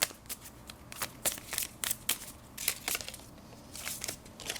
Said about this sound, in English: I'm going to shuffle some astrology cards to see if we can get some more information on this, you guys.